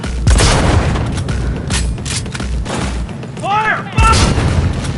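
Close-range gunfire in a battle, with several loud booming shots and sharp cracks spread over a few seconds, mixed with shouted voices.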